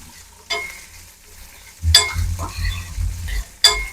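Onions fry with salt in a pan, giving a steady low sizzle. Sharp bursts of stirring and scraping come and go over it, close up and with no talk.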